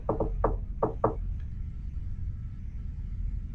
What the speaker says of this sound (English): you hear the old shave and a haircut on the door